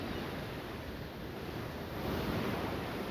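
Wind and surf roll in on a Galveston Gulf beach on the Texas coast, a steady broadband wash of waves and gusting wind with no voices, swelling slightly toward the end.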